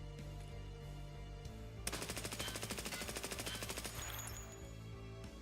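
A burst of full-auto rifle fire in a PC shooter game, a rapid even stream of sharp shots lasting a few seconds over a faint low hum, loud and close, with no talk.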